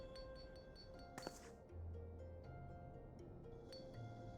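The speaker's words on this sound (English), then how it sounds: "The sound of so many gil clinking together is strangely satisfying" Gil coins clink together in a money pouch in a video game: one brief, bright jingle stands out over a quiet ambient music bed.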